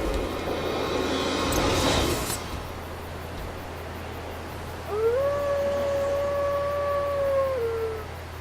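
A wolf in the video game Dark Souls gives one long, wavering howl that rises, holds and then falls away. A low steady hum runs beneath it, and a brief rustling burst comes before it.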